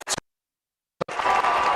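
Crowd noise rising at a Division 1 boys basketball semifinal between Pinkerton and Portsmouth: a brief burst, a pause of near silence, then sustained loud cheering and applause building from the stands.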